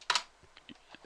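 Quick clicks of a computer keyboard as a command is typed, a short loud burst of keystrokes followed by a few softer, spaced taps, close and alone.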